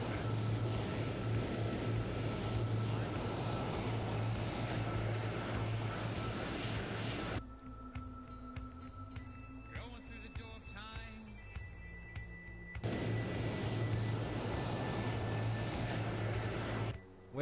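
Aircraft engine in a video game, running with engine trouble, a loud, steady droning roar that cuts away midway to a quieter stretch with beeps and warbling tones before the heavy drone returns.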